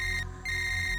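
A telephone ringing as a call is placed, a short electronic ring tone that cuts out briefly and resumes, loud and close with no talk over it.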